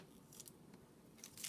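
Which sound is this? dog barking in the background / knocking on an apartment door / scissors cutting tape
scissors cutting tape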